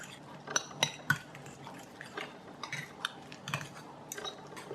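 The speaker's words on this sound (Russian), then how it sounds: "Перемешиваю." A spoon stirs a cheese topping mixture with parmesan in a bowl, giving faint, irregular scraping and clinking taps scattered over a few seconds with no talking.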